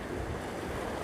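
Sea surf washes against a New Zealand shoreline in a broad, steady roar mixed with wind buffeting the microphone, close and continuous with no voices.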